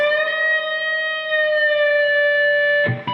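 A single electric guitar note on the B string, slid up to the 15th fret in a guitar lesson, rings out sustained and loud, ending with a short scrape near the end, with no talking.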